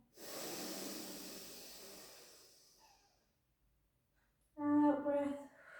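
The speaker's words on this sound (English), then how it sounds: "big breath in through the nose" A long, slow inhale through the nose during a Friday morning pilates stretch, soft and steady for about three seconds, fading to quiet before a spoken instruction.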